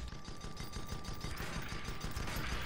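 A spaceship's front gun fires during a space combat game match, a rapid stream of crackling, rattling shots under a steady tone, continuous and fairly loud throughout with no voices.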